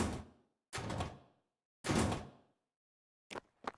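A Doom-style sliding door in the Ion Fury level editor, a Build-engine video game, opens and closes with loud, rumbling mechanical grinding bursts separated by silence, then ends in a few sharp clunks.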